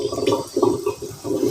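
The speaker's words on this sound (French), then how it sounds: "je vais mettre un peu d'eau tiède" Lukewarm water pours over sprouting seeds in a few short splashing bursts, close and fairly loud, with no voices.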